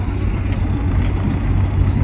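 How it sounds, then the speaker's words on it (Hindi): A bulldozer works an earth-moving site cutting soil and stones, its diesel engine a loud, steady low rumble throughout with a faint mechanical clatter on top, close by and without talk. "ये बेसिकली डोज़र काम कर रहा है"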